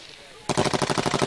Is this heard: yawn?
no